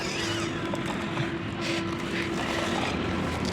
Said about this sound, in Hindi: ट्रैक्टर धीरे धीरे आगे धीरे धीरे बढ़ रहा है कछुए की चाल में